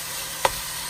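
Chicken pieces poured into a hot pan for chicken and shrimp alfredo give a steady, close sizzle throughout, with one brief sharper crackle partway through; no one speaks.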